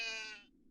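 A single short bleat from a goat in the horror video game Fear and Hunger 2: Termina, a bright wavering call that cuts off abruptly, heard alone.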